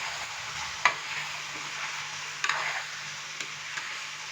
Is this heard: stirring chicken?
yes